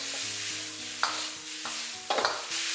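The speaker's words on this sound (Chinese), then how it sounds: "然后大火继续给它翻炒均匀" Cauliflower being stir-fried over high heat with salt, a little sugar and chicken bouillon, a steady sizzle broken by a few sharp scraping clatters of the spatula tossing it in the wok, close and alone.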